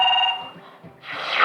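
A telephone rings briefly with a steady electronic tone while a call is placed to a TV show's lottery line, then fades into a wash of hissy noise.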